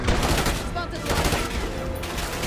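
Gunshots in the Call of Duty Black Ops 6 story campaign, a dense, loud, continuous rattle of rapid fire with no pause across the whole stretch, heavy and close.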